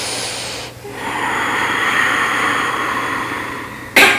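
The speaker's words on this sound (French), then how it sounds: "J'inspire et j'expire." Deep breathing during an abdominal exercise: a long, close, airy exhale or inhale that swells and holds for several seconds, then a sharp, loud intake of breath at the end.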